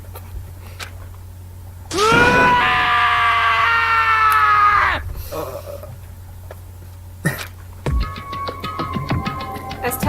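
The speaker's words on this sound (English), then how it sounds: "As Taka's sad screams invaded our skulls" A character's anguished, sustained scream from the video game Danganronpa: Trigger Happy Havoc, loud and harmonic for about three seconds, followed by quieter game sounds and chiming tones.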